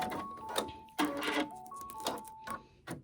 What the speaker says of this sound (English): you're going to hear that funny tick, tick, tick noise. That's just the needle going through